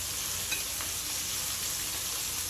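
Pork chops fry in a pan with a dense, steady sizzle that holds evenly throughout, with no voices.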